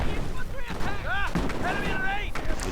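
Mortar fire in Company of Heroes, heard as deep, muffled thumps scattered under the battle noise. Voices and radio chatter from the game overlap the blasts.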